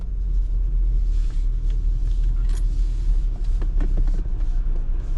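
A car rolling slowly into a car wash, a steady, close, low engine rumble with no break and faint clanks and knocks above it.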